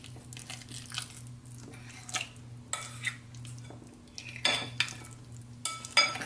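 Batter for sweet potato bread being stirred in a bowl, a steady scraping and clinking of utensil against the bowl with occasional louder knocks, close and alone.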